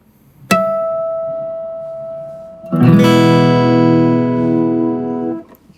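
A single bell-like natural harmonic on guitar, the note E, chimes and sustains alone, then a fuller ringing chord-like tone of the same pitch swells in and holds before stopping abruptly.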